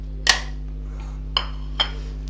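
A spoon clinks sharply against a bowl as crushed roasted cumin and spices are mixed into boiled black chickpeas for chaat, three distinct close knocks with quiet pauses between them.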